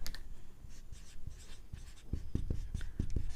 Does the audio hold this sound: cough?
no